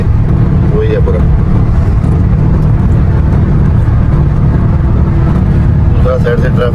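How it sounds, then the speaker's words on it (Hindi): Dense, steady road traffic on Al Khail Road in Dubai, near a bridge: a constant loud rumble and whir of passing vehicles with no breaks, and a voice faintly heard at moments. "दूसरा साइड से ट्रैफिक आ रहा है, ये ट्रैफिक जा रहा है"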